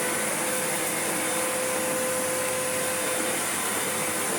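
A repaired Sebo Felix Premium upright vacuum cleaner runs steadily on its own, a constant broadband motor whine with a faint steady tone throughout, no voices.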